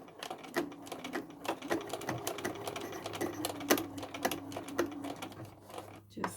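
A sewing machine stitching a straight seam through bulky red velvet on a tote bag, fast rapid clatter with regular sharp needle taps and a steady motor drone, close up.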